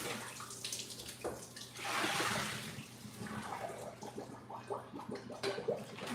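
Cold tap water runs over cooked pasta shells in a kitchen, a steady rushing splash that swells briefly, with occasional clinks and sloshes close by.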